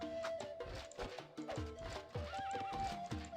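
Horses neigh and whinny repeatedly amid clip-clopping hooves and unit sound effects in an Age of Empires-style strategy game match, several loud calls overlapping in quick succession.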